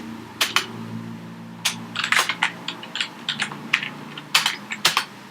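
Fingers type on a computer keyboard in quick, uneven bursts of crisp key clicks, close and fairly loud over a quiet background hum.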